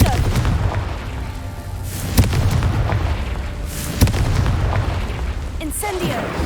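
Fire spell explosions in Hogwarts Legacy, a dense booming game soundscape with two sharp blasts standing out over continuous rumbling background action.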